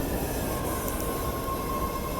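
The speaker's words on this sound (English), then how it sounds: "Here's the train again." A train rolls past close by in a steady, continuous rumble with wheel noise and a faint high squeal running through it, loud and unbroken from start to finish with no talking.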